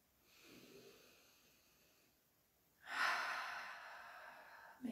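A slow, deep breath drawn in during a guided yoga exercise, breathy and close, swelling clearly after a quieter exhale-like rush, with no talking over it.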